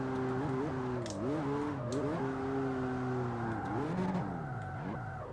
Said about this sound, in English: let's see if we can actually drift this low-powered MX-5. Maybe a few clutch kicks.